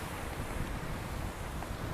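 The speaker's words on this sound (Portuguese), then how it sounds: "As ondas batem tão forte aqui que dá medo ali" Strong ocean waves surge and crash close by in a steady, loud roar, with heavy wind buffeting the microphone throughout and no voices.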